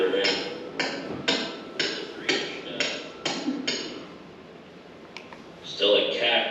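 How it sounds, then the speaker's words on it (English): Sharp metal hammer blows drive a 3-inch pipe into hard, untreated field ground, about eight evenly spaced strikes close by, then a pause and a softer scraping shuffle. "Got to hammer it in."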